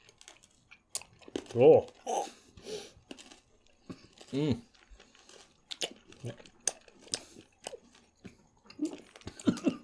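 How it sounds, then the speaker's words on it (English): Sour candy chomped and chewed with crunchy bites between spoken remarks and an exclamation, the mouth sounds close and intermittent under the talk. "We're going to chomp on them."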